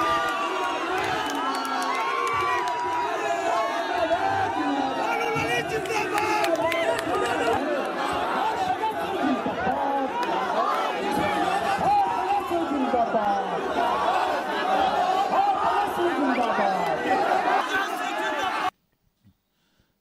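A large, noisy crowd at Tejashwi Yadav's 2020 election rally in Darbhanga, with continuous loud chatter, shouts and cheering from many voices throughout before cutting off abruptly at the end.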